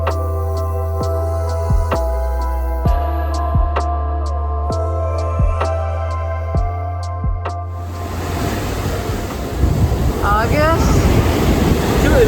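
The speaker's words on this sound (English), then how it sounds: "Look at the big waves." Large waves break and wash onto a cold, wet beach, a steady roar of surf building into heavier crashing at the end, with faint tonal hum underneath and no talking.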